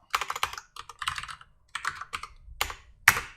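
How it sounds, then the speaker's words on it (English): Close, clattering bursts of typing on a keyboard with a sticking spacebar, clustered keystrokes broken by short pauses, ending in one sharp louder clack. "just the spacebar kept getting stuck"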